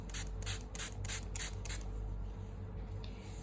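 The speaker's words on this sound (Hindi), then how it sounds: "अगर आपके पास नहीं है तो कोई बात नहीं, आप जस्ट रोज़ वाटर का स्प्रे कर सकते हो इस तरह से" A spray bottle misting rose water in a quick run of about six short, hissing pumps, close and fairly soft, over a bridal makeup base, with no talking.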